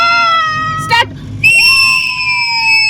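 Riders on a ropeway at Srisailam let out long, high, sustained screams from several voices, loud and close, with a brief break between shrieks.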